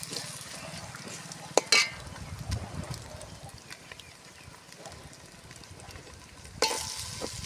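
Biryani ingredients of egg, chicken and prawns frying in a pan, a steady sizzle with stirring scrapes and a couple of sharp clatters, close and moderately loud.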